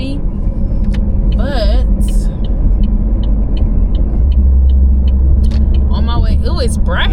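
Steady low engine rumble and road noise fill the cabin of a moving car, loud and continuous, with a person talking over it.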